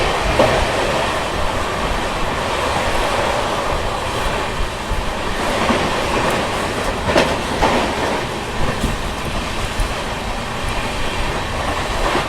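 The Purva Express rolls along the rails in a continuous loud rumble with rhythmic clickety-clack of the wheels and occasional clanks, heard from inside the moving train.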